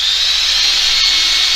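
Drill machine cutting a hole in a washer: a loud, continuous hissing grind with a bright high whine, held steady at close range with brief catches, no talking.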